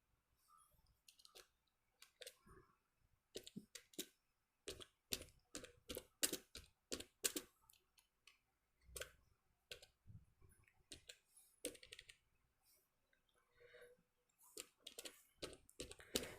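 A computer keyboard clicks as text is typed into a spreadsheet cell: quiet, close bursts of keystrokes in irregular runs, separated by short pauses, with no voice.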